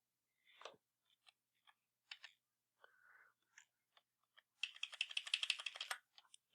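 Computer keys are pressed, and an Alt key is held while arrow keys nudge an object into place. Scattered, soft, close clicks come one at a time, then a denser burst of rapid typing, each tap crisp and quiet.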